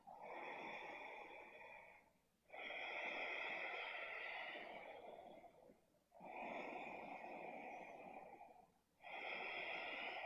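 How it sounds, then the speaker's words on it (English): Slow, deep yoga breathing close to the microphone: four long, quiet breaths alternating between inhale and exhale in an even rhythm, each separated by a brief pause. "Take 3 more breaths."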